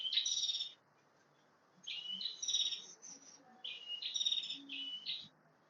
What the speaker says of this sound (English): How beautiful is that bird sounding?